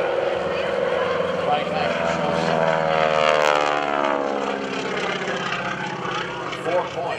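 Radial engine and propeller of a Stearman biplane roar loudly and steadily through an aerobatic airshow routine, with a slight rise and fall in pitch, while an announcer talks over it at a military base open house.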